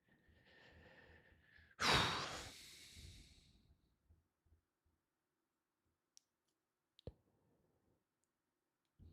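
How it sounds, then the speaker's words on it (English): A close, loud huff of breath blasting into a microphone outdoors on a New York City election day, followed by quiet stretches broken by a few small clicks and faint rustles. "I'm sorry if I'm breathing into the mic."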